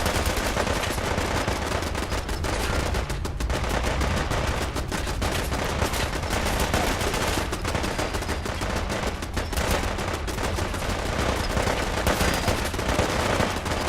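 Dense, continuous automatic gunfire in the Fallout 4 video game, loud and relentless with rapid overlapping shots and no pauses for the full stretch.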